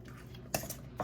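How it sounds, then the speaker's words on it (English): Utensil scraping and clinking against a bowl while an egg is stirred into ricotta cheese, with two sharper knocks standing out over a steady low mixing rustle, close and moderately loud. "just start by just kind of mixing that up in here so that the egg kind of loosens up the ricotta cheese a little bit"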